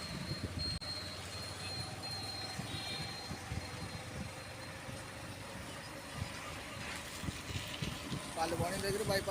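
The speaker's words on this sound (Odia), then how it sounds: "ଏଇଟା ହେଉଛି ଆମ ବାରିପଦାର ରେଲୱେ ଷ୍ଟେସନ" A train rumbles at Baripada railway station near Station Bazaar, a continuous low rolling noise with faint wheel squeal and metallic clatter, mixed with distant voices and ambient crowd noise.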